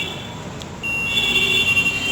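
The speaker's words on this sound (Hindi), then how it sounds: "बीप कर रही कॉइल" A mobile phone's buzzer coil under repair on the bench beeps as a steady high tone that comes in partway through, over faint background hum.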